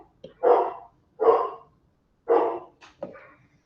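Dog barking, four or five loud, distinct barks with short gaps between them, close to the microphone and standing alone.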